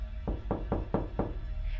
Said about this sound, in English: I hear someone is knocking on the door